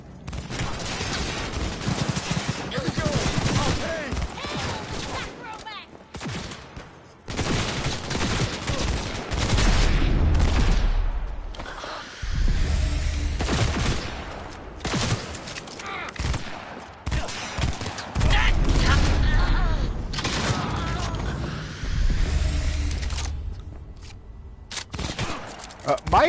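Gunfire in the Cyberpunk 2077 video game comes as loud, dense bursts of shots and explosions that keep going almost without a break, with heavy low booms and a few short pauses.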